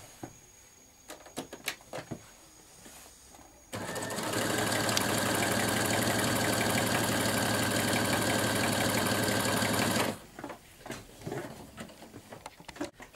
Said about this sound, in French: Et on va faire un point zigzag tout autour.